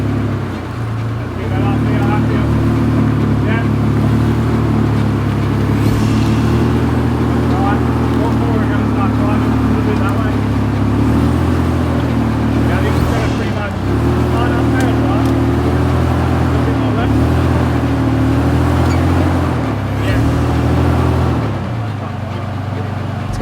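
A Nissan GU Patrol 4x4 climbs a steep off-road hill, its engine holding a steady, loud, low drone that rises and dips slightly with the throttle while people talk over it.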